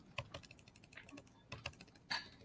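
Keys clatter on a computer keyboard in short, uneven bursts with brief pauses, crisp and close but fairly quiet, ending in a louder cluster of strokes.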